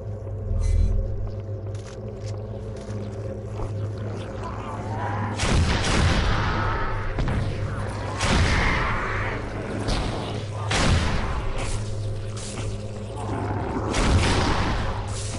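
Shotgun blasts in the video game Halo SPV3 boom out as several heavy, spaced reports over a constant low engine-like rumble and game ambience.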